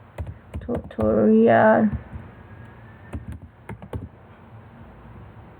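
Quick keystrokes on a computer keyboard as a file name is typed, short clicky bursts scattered around a brief stretch of speech, fairly close and moderate in level.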